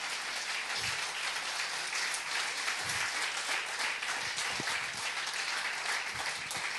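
A congregation at a French-language church service applauds in a dense, steady wash of clapping and cheering that fills the room and holds evenly throughout.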